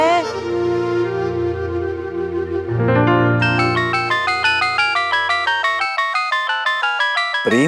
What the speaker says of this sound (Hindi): प्रेम का फोन अरे सच्ची, बात कर जल्दी